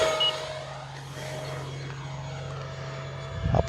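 An E-flite F4U-4 Corsair V2 electric RC warbird with a 1.2 m wingspan drones steadily in flight at moderate distance. Its motor tone swells briefly near the end as it passes.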